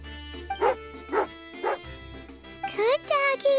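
A dog in the video game Genshin Impact gives a series of loud, close barks in a quick rhythm, ending in a higher whimpering yip, over a low steady game hum.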